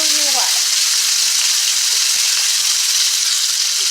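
A New York steak sizzles loudly in a frying pan as it is flipped, giving a steady, close, broadband hiss that carries through the whole stretch.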